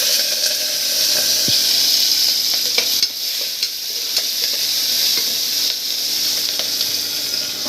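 Ripe red chillies fry in oil with cumin in a pan, giving a steady, loud sizzle with a bright hiss, and a stirring scrape and soft clicks here and there. No one speaks.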